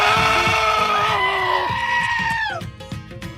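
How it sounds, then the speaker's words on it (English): Screaming goats blare as a loud, close sound effect, a drawn-out wavering bleat-like scream that slides down in pitch and then cuts off, with a low rhythmic backing beneath it. "those are screaming goats, and we always have to put those in our show"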